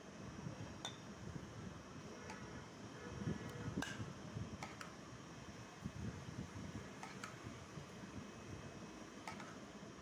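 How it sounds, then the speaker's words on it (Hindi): An electric ceiling fan runs overhead in a home kitchen while custard cools beneath it, a steady, even whirring hum throughout with a few faint clinks of glass or utensils. "अब मैं पंखे के नीचे इसको ले आई"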